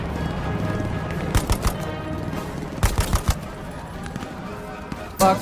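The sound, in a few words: machine gun suppressive fire in Hell Let Loose video game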